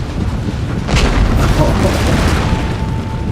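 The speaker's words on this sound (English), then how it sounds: "Ranged artillery firing." Artillery firing in a war strategy game, a loud booming discharge about a second in, followed by heavy rumbling over a constant battlefield roar.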